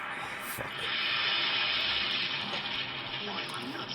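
Lava waves in the Dragon Ball Z Broly movie, a continuous rushing, hissing surge with a few brief swells and crackles, heard alone without talk.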